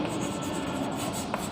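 A pen or chalk scratches out an irrational number during a maths lesson, with a steady, close rubbing stroke sound running throughout and no talk.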